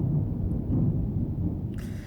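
Thunder from a thunderstorm, a deep continuous rolling rumble dominating the low end, fairly loud and steady, with a faint brief higher noise near the end and no talking.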